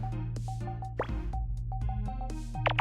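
Small water drips, plops and squishy liquid sounds picked up by a microphone, soft and close, recurring in brief irregular bursts over a steady low background hum.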